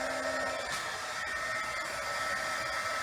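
Hair dryer blowing to dry chalk paint on a silver tray, a steady continuous whooshing hum, close and even throughout, with no talking.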